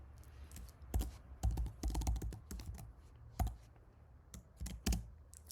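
Typing on a computer keyboard while writing code, irregular bursts of crisp close-up key clacks and taps with short pauses between them and no talking.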